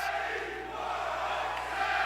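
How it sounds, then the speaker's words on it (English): Dense wrestling crowd at a live independent show filling the air with steady roaring and chanting, evenly loud throughout with no breaks, as fans split their support between two wrestlers. "it sounds like we've got a split crowd here between Teddy Goodz and Warhorse"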